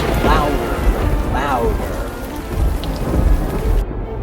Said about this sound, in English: The storm kept getting worse. The lightning flashed brighter and brighter. The thunder crashed louder and